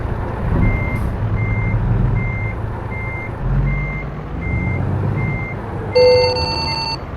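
In the American Truck Simulator game, a truck reverses with evenly spaced electronic backup beeps over a low, steady diesel engine rumble, ending with a brief louder tone.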